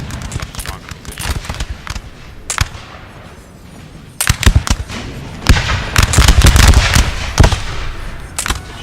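Musket fire crackles in Napoleon: Total War, scattered sharp reports at first, then a denser rattling volley building toward the end, with a voice talking faintly beneath.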